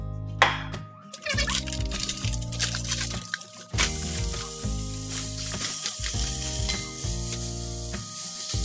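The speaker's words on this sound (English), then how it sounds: "I'm gonna go ahead and spray it with some oil" Avocado oil spray hitting a hot pan, followed by loud, steady sizzling with stirring noises, ground beef frying for sloppy joes, near and continuous with brief pauses.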